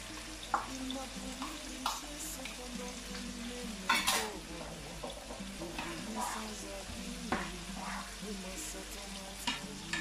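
Onions and green peppers fry in a pan for a bolognese sauce with a steady, moderate sizzle. Occasional stirring clatters and scrapes come and go, and soft voices murmur in the background.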